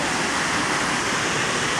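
A roughly 150-foot waterfall with fast water throwing spray, a dense, steady roar heard up close, loud and unbroken.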